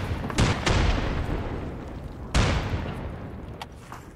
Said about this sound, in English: This is a bunch of explosions.